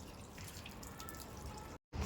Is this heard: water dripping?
yes